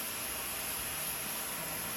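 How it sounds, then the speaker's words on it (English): A pressure canner vents a steady stream of steam while chicken kale soup is canned, giving a constant, even, quiet hiss with no breaks. "it's going to full bore steam for 10 minutes"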